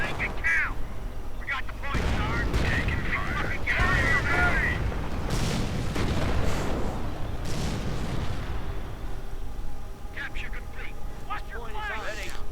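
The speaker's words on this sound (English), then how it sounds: "More rocket fire" Rocket fire crashes through a World War II Company of Heroes battle, a series of loud booms and blasts layered over ongoing combat noise, with a voice talking over much of it.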